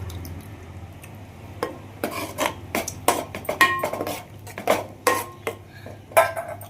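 A spoon stirs curd into fish biryani masala in a cooking pot, giving repeated sharp metallic clinks and scrapes against the pot in an irregular rhythm, close and fairly loud, with no talking.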